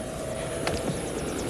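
A helicopter lifts off along the Pembrokeshire coastline, its steady loud rotor and engine roar filling the clip with a couple of brief thuds in the middle.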